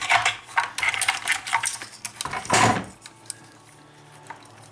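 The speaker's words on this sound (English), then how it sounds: "I'm going to go ahead and get a flathead screwdriver. And I'm going to pop out the old receiver." A flathead screwdriver prying out an old receiver from a Traxxas Rally RC car, giving close, small metallic clicks and scrapes in quick clusters, then a louder pop and rattle before quiet.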